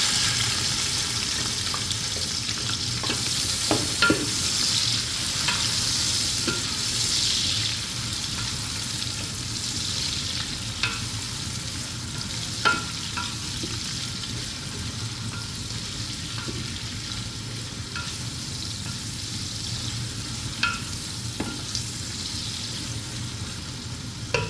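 Chopped onions sizzle in hot oil for chana dal, a steady, close frying hiss broken by occasional clinks and scrapes of stirring, with no talking.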